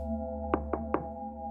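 Three sharp knocks on a back door at night, spaced a little apart, over a steady low hum with no voices.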